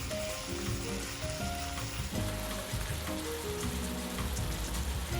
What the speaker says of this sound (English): Press the large chunks of meat down onto the flat surface of the pan